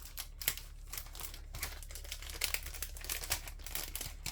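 Scissors cutting Heartfelt Creations vellum in half, crisp crinkly snipping and paper rustle in quick irregular bursts, close and clear with no talk.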